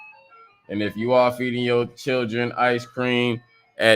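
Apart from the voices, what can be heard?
ice cream truck jingle outside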